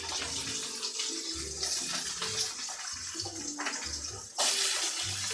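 Water from a kitchen tap runs steadily as hands are washed beneath it, a continuous close splashing hiss that swells louder near the end, with no talking.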